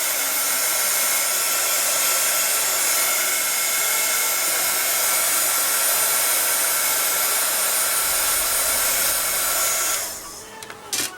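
A hair dryer blows steadily on wet watercolor paint on a journal page, a loud, continuous, whooshing drone that runs for about ten seconds, then cuts off abruptly into a few faint clicks and rustles.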